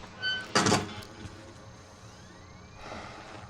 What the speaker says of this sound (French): On ferme la porte.